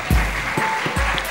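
Audience applause greets a panelist being introduced at a client-experience talk in Brazil, a brief, steady burst of clapping from a room crowd with no voice over it.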